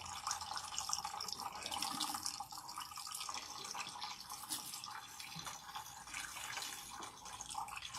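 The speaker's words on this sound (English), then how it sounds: "So rinse out the Bandera until the water is completely clean." Water runs steadily from a tap as clarifying shampoo is rinsed out of a man's hair, a continuous splashing hiss with faint drips and no talking.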